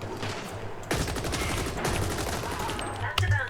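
Rapid bursts of gunfire from shooting in a video game, starting abruptly and continuing as a loud, fast stream of shots with a few sharper cracks near the end.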